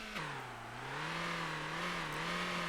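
Vintage bus with an inline-four engine in the driving game Motor Town, a steady mid-pitched drone that dips after a short start, then holds and slowly climbs, alone and fairly close.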